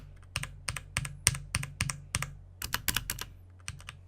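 Keys clacking on a UtechSmart Mercury LED backlit wireless mechanical keyboard, a steady run of about a dozen close, crisp strikes, mostly evenly spaced with a quicker burst near the end, and no talking.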